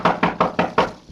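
Five firm knocks on a wooden door in an even, quick rhythm, close and loud, followed by a faint softer tap as the sequence trails off, with no voices over it.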